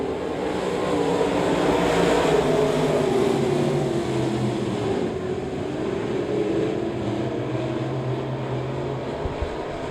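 A pack of race cars roaring off at the green flag of a Firecracker 50 race at Devil's Bowl Speedway, a loud sustained blend of engines with rising and shifting drones.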